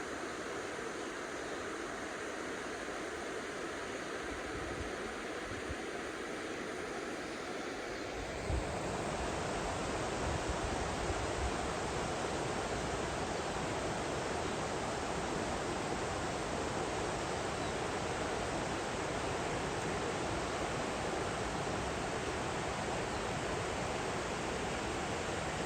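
River flowing beside a rural property, a steady broadband rushing wash of water that continues without a break and becomes fuller and louder after a shift partway through, with no voices.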